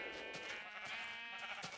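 Sheep bleating in the Minecraft Tekkit mod, a steady, loud stretch of game-style bleats running the full clip with brief overlapping calls and no talk.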